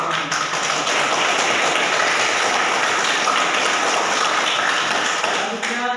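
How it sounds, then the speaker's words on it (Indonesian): A classroom audience claps for a group that has just finished its presentation, with a dense, even round of applause lasting several seconds before tapering off. "mari kita memberikan aplaus kepada kelompok 1"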